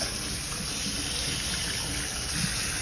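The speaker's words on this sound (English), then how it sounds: "I'm gonna test this water." Water running steadily from a salon shampoo bowl spray as it is tested before rinsing a client, a constant close hiss without pause.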